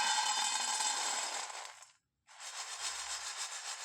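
Crispy fried edible gum (gond) crushed and shaken in a sieve, a steady dry crunching, rubbing rasp close up, broken by a short pause before resuming.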